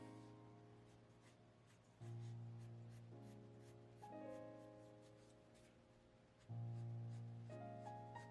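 A pencil lightly shading a drawing of Luigi from Luigi's Mansion 3: faint, steady scratchy strokes on paper, soft and close, running beneath sustained background music with no talking.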